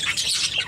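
Pet birds in a breeding shed give a loud, close burst of harsh squawking calls.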